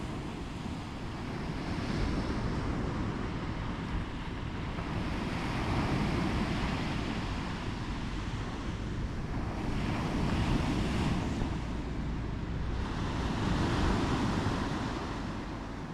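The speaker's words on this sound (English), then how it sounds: "Horto is known for its stunning, long, sandy beach and crystal clear waters" Waves wash steadily onto the long sandy beach at Horto in Pelion, Greece, a continuous surf roar with gentle swells and buffeting wind noise on the microphone.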